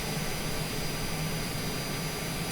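A steady, loud airplane engine drones without a break while the aircraft 343 Bravo Whiskey taxis on a hot Scottsdale airfield, with a constant whine over a low rumble.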